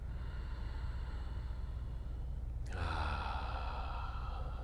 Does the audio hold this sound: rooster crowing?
no